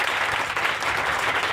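Church congregation applauding to acclaim Jesus at a morning worship service, a dense steady wash of clapping hands that fills the whole moment without pause or voices on top.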